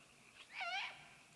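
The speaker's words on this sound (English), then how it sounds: "Oh my goodness, it's an owl." A single faint, wavering hoot-like call from an owl rises and falls for about half a second, distant and quiet against a soft background hiss.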